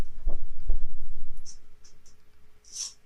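Pen strokes scratching a measurement mark onto a slimline workpiece in a home shop, close and fairly loud with short rhythmic scribbles, followed by a few fainter taps and a brief hissy stroke.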